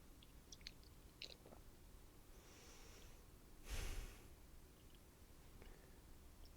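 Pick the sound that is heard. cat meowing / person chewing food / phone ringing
person chewing food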